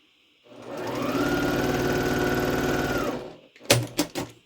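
A sewing machine runs steadily for about two and a half seconds, stitching quilt pieces, its motor whirring close and loud before stopping, followed by a few sharp clicks and thumps of handling.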